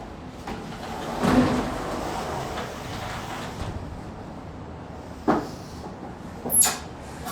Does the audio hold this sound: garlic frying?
no